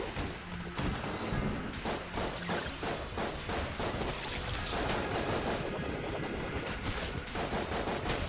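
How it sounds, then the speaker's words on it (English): Constant gun and bullet effects in the video game Enter the Gungeon: a steady barrage of rapid shots and impacts, loud and unbroken over a busy game soundtrack, with no talking. "Good gun bullet effects"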